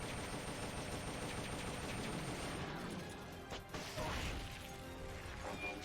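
Rapid assault rifle gunfire in the video game Metal Gear Solid: Peace Walker, a dense continuous rattle of shots with mechanical clatter and a sharper burst partway through, loud and unbroken throughout.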